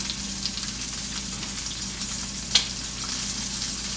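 Cheese sauce bubbling and sizzling on a baked walleye and au gratin potato dish fresh from a 350-degree oven, a steady crackling fizz with one sharper pop midway, close and continuous.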